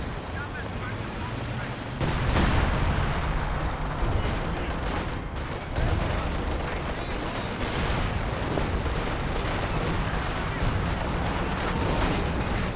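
Artillery barrage and gunfire in a Company of Heroes 2 match, a dense, continuous rumble of shelling and weapon fire that swells at around two and six seconds, with talk running over it throughout.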